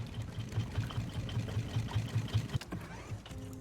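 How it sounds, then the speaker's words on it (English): A raft engine in the survival game Raft chugs with a steady low mechanical pulse, then winds down and cuts off, leaving a faint hum and a few small clicks. "All right, let's turn this engine off."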